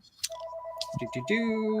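A telephone rings with a steady electronic tone under several overlapping voices in a room, the ring holding on as people talk over it.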